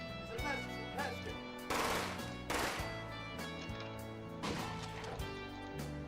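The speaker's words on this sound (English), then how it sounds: "He starts shooting his gun." Gunfire from a film scene, a few sharp bursts of shots breaking through a steady music bed and other soundtrack sounds, moderately loud, with no speech over them.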